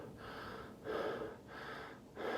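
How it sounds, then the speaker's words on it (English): Slow breathing in and out through a plastic face mask, close and fairly loud, with three rough airy breaths alternating with short pauses and no talk. "as I'm breathing in and out"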